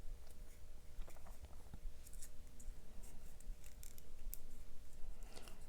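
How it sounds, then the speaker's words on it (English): Paper is folded and creased sharply with a finger, giving soft crinkles, rustles and small crisp clicks throughout, close and quiet. "I'm going to use this finger and make a fold like a 45 right there. And I'm going to crease it sharply."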